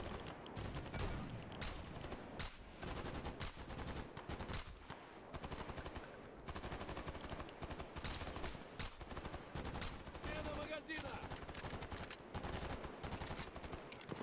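Dense, rapid gunfire, both automatic bursts and single shots, rattles continuously through a shooter video game firefight at a fairly loud, steady level.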